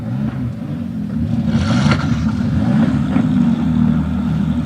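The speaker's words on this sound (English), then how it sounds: "So the engines have started up" Ferrari Challenge race cars at Watkins Glen, their engines starting and idling in a low, steady rumble with a brief rising rev partway through.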